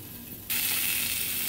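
Potatoes frying crisp in a pan, a quiet low murmur that suddenly jumps into a loud, bright, continuous crackling sizzle after half a second.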